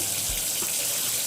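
Tap water runs in a steady hiss over a sink while pork neck bones are rinsed, a continuous close wash with a brief low thump near the start.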